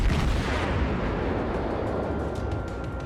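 Naval gunfire from a destroyer in World of Warships, a dense sustained rumble of heavy booms and blasts with no clear gaps, loud and close.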